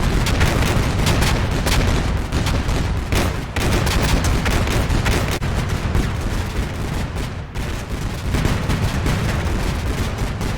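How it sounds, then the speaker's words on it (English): Sustained area-fire gun bursts and booming autocannon blasts rake a wood line in the Combat Mission Cold War video game, loud, dense and rapid, with explosions mixed into the continuous barrage. "The long, oscillating bursts blindly rip deep into the wood line."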